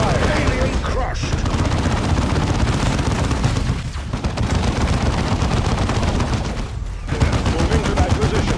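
Continuous battle gunfire from Warhammer 40,000: Dawn of War II – Chaos Rising, with dense automatic bursts and booming impacts layered loud and unbroken, a couple of brief dips, and voices speaking over the din.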